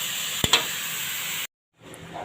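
Shredded cabbage stir-frying in a hot pan as a topping for pansit bihon guisado, a steady close sizzle with a couple of brief clicks from stirring before cutting off, then resuming.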